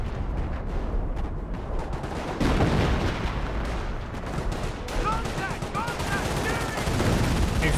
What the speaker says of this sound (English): Barraging back here.